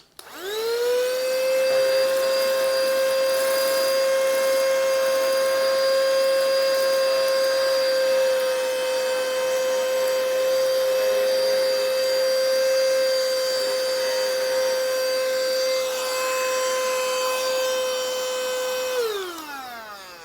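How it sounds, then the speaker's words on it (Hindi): A mini rechargeable vacuum cleaner sucks up seeds with a steady, loud high-pitched motor whine that holds for about eighteen seconds, then winds down as it switches off. Nobody speaks. "And this is our vacuum machine."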